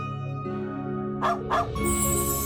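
Small dog barking in the Trails of Cold Steel IV video game, two short yips close together over a steady musical background.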